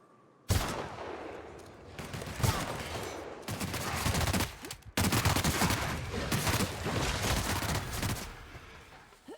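A gun in The Outer Worlds fires in loud, sustained rapid bursts, with a brief pause midway before another long volley of close gunfire.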